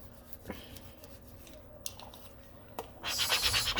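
Scraping and rubbing on a resin notebook surface, with a few sharp scratchy strokes early on, then a louder, sustained rasping scrape near the end, close up and with no talk.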